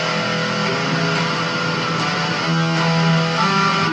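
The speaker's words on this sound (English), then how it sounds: "if I accidentally hit that low E and I'm not muting that string," An unmuted low E string rings on an electric guitar, a steady, loud, buzzing drone that holds for several seconds with no talk over it.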